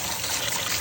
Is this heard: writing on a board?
no